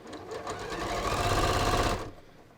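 A sewing machine stitches beneath the pocket of ready-to-wear pants, a fast, even mechanical chatter up close that runs for about two seconds and then stops abruptly.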